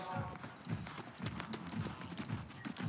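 Show horses at an Icelandic breeding event moving at a brisk gait, hooves clip-clopping in a steady rhythmic pattern at moderate distance, with an announcer speaking over them.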